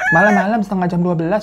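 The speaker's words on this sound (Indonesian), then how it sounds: "Tiba-tiba ada suara ayam berkokok." A rooster crows at about half past midnight, loud and close, its long harmonic call sustained and wavering for over a second while a voice talks over it.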